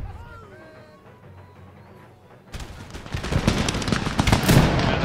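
Musket infantry fire by rank in Empire Total War, in a battle for Madrid. Quiet ambience with faint tones gives way to a sudden dense crackle of overlapping volleys that keeps building, loud and continuous, to the end.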